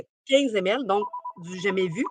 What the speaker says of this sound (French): Désolée pour le téléphone.